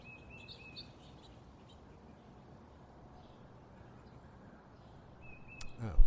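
A blue jay outdoors at a bird feeder gives a faint mimicked red-shouldered hawk call, brief thin cries at the start and again near the end, over quiet background hiss and a soft bump.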